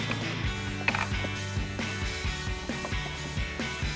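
A ratchet clicks in quick, steady bursts while the 8mm screws for a Raxiom LED taillight on a 2021-2025 Ford Bronco are driven in, close up and moderately loud.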